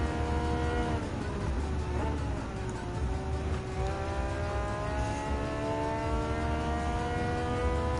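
Race cars in Gran Turismo 7 at Suzuka, an engine screaming and shifting with rising and falling whine, other cars roaring close by in a continuous loud stream.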